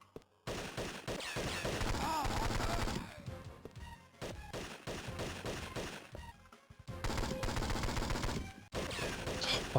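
Gunfire in 007: Nightfire on the Game Boy Advance, bursts of rapid crunchy shots in several loud clusters separated by brief gaps, harsh and compressed.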